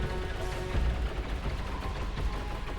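Heavy weapons fire from ships in the space game X3: Terran Conflict, aimed at an incoming missile: a dense, continuous barrage of rapid shots and low booms that stays loud throughout.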